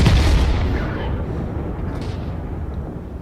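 An 85mm tank gun fires in a tank video game, a heavy boom right at the start that decays into a long rumbling tail over about three seconds.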